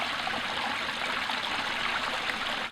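Recirculating water feature in a landscaped native garden trickles and splashes steadily, a continuous bright babbling flow, moderately close and unbroken, with no voices.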